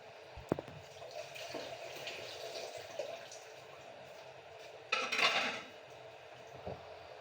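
Beef nihari gravy ladled from a pot into a separate bowl: faint metal and dish clinks with quiet liquid sounds, then a short louder wet scrape or pour near the end, no talking.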